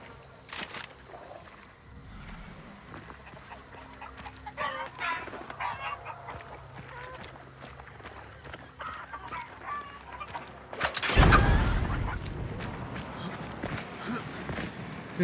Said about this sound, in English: Heard a dude setting off ducks